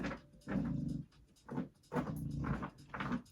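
A pet dog makes soft, breathy huffing and low whimpering sounds in several short bursts, close by and fairly quiet, with brief pauses between them.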